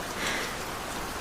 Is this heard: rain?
yes